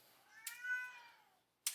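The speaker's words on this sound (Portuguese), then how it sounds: "Meu gato quer sair no vídeo." A house cat gives a single drawn-out meow, fairly close and clear, rising and falling over about a second, with brief clicks before and after and no talking.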